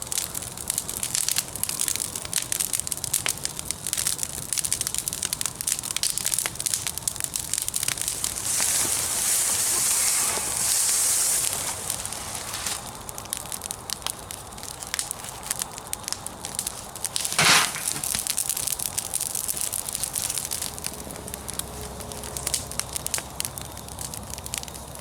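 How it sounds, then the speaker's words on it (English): Wood bonfire burning at a campfire, steady close crackling and popping with a continuous rushing roar, sharp snaps scattered throughout and one louder crack midway, no speech. "So let's start a nice little bonfire and get this going."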